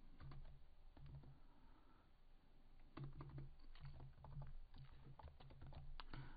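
Keys clatter in irregular bursts as code is typed on a computer keyboard, close and clear, with short pauses between clusters of strokes and a low hum underneath.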